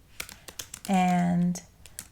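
Keys on a computer keyboard are typed in a scattered run of close clicks, with a brief drawn-out spoken word breaking in partway through.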